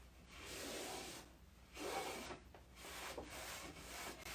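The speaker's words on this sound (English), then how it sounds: "Now I'm going to take my rag and I'm going to wipe this back." A cloth rag rubs steadily back and forth across a glazed car finish, a soft continuous scrubbing with slight pauses, close and alone.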